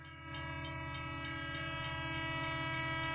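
A steady, loud train horn blares as a sound effect over the rumble of a passing train, with faint rhythmic clatter of rail cars beneath it and no talking.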